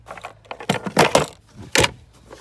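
Keys jangling on a brand-new Phoenix boat, a few quick metallic clinking shakes in irregular bursts, close and alone.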